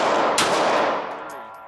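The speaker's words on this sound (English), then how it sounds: "Shooting 3 rounds in 4 seconds." Pistol fired on a qualification course after a draw from the holster, a loud close report with a sharp blast and a long ringing decay, alone with no talk.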